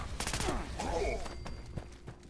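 Enclave plasma rifle firing in the Fallout 76 video game: a rapid string of sharp energy shots in quick succession, with sweeping, zapping tails between bursts, loud and close.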